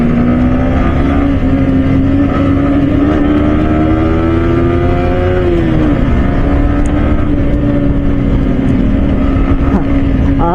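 A Harley-Davidson motorcycle approaches with a steady, loud low engine drone and a gently rising and falling pitch, under wind noise, sustained for about ten seconds.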